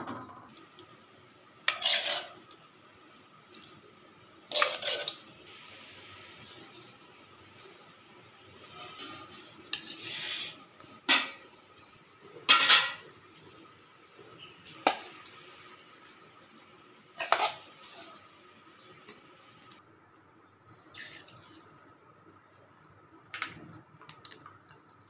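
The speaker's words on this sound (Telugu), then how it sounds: "నువ్వులను నేను డ్రై రోస్ట్ చేసుకుంటున్నా" Sesame seeds dry-roasted in a pan without oil for brinjal chutney, with a series of sharp, separate clinks and scrapes of stirring spread across a quiet background.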